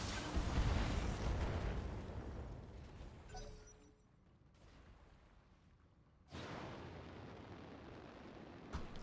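Mech weapons fire in a BattleTech-style game: a heavy, roaring salvo fades into quieter hum, then a second loud burst erupts and sustains, with a sharp crack at the end.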